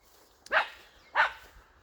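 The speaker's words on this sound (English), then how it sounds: "there's a puppy dog down here" Two short, faint barks from a puppy named Goji, spaced about two-thirds of a second apart, heard slightly away in a quiet setting.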